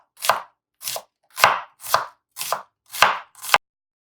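A knife chops through halved onions on a cutting board, seven sharp, close chopping strokes at a steady, slightly uneven pace, with silence between them and no talking.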